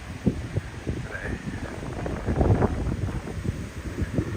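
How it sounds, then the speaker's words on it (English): Wind gusts and buffets steadily against a microphone on a morning walk through Todoroki Ravine in Tokyo, with rustling and low rumbling throughout and no voices. "I guess it's the wind"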